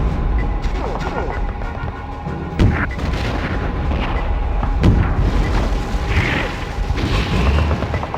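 A tank fires shots in the video game Conker's Bad Fur Day, with several booming blasts and clanking mechanical noise scattered through a busy game soundscape while a player talks over it.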